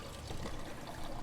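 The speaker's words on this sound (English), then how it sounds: "I can turn on the water cooler." A water cooler in a video game dispenses water, giving a short, close pour with a soft trickling, splashing stream for about a second.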